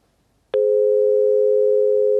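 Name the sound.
telephone busy signal on a call that failed to connect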